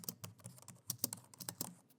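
Rapid keystrokes on a computer keyboard as a setup command is typed, a brisk uneven run of close, crisp clicks with no talking.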